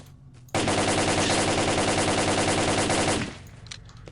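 A long sustained burst of rapid automatic gunfire in the video game StalkerSoup, loud and close, about three seconds of continuous shots ending abruptly.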